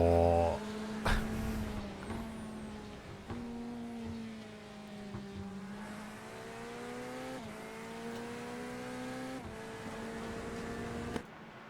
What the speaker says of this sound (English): Look at all those cars on track.